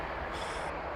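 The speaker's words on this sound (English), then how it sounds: "Here we've got a train coming past us." A train rolling past Avoncliff Wood in Wiltshire, a steady broadband rumble and rush heard close by without a break.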